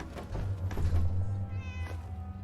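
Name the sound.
cat meowing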